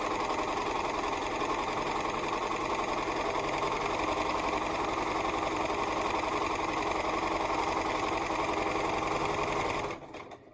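A sewing machine stitches fabric for a barn quilt, running at a fast, continuous, even mechanical whir close by for about ten seconds before stopping abruptly.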